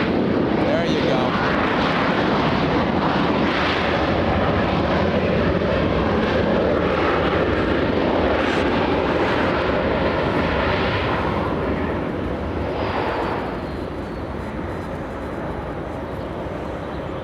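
Air Force One thundering down the runway at LAX, a loud, sustained jet engine roar close by that slowly eases as the aircraft pulls away.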